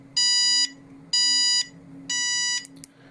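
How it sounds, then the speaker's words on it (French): A bicycle rear light with a turn signal beeps in three sustained electronic tones at a steady interval, bright and close over a faint low hum. "vous allez avoir le clignotant qui va signaler que je tourne à gauche, plus un signal sonore"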